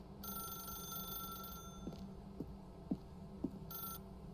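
A telephone rings inside The Stanley Parable: Ultra Deluxe. The electronic ring comes in two bursts separated by a pause, over a low hum with a few soft thumps in between.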